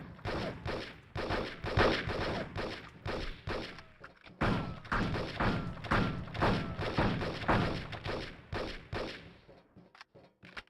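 Rapid bursts of gunfire from the video game Chicago Enforcer, loud repeated shots and thuds in quick clusters with brief pauses, continuing for several seconds.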